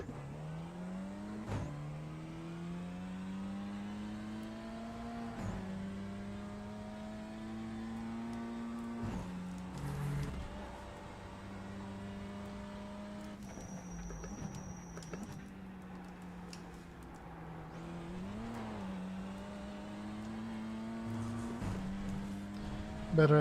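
Porsche 718 GT4 engine lapping Mugello circuit, a steady high-revving flat-six drone with repeated upshifts and throttle lifts through corners, close and continuous for the whole stretch.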